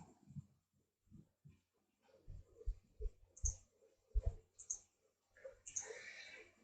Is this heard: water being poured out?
no